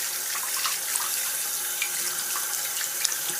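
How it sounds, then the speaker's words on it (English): A tap runs steadily into a sink while hands are washed under the flow, a close, even hiss of water with small splashy flickers and no talking. "And then I wash my hand"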